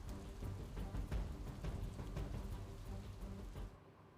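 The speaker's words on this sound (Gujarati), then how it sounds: "અખબાર ભવન અને આસપાસના વિસ્તારોમાં વરસાદ વરસી રહ્યો છે" Unseasonal rain pours onto streets in Gandhinagar, a dense steady hiss with scattered heavier drops and low rumbling, stopping abruptly near the end.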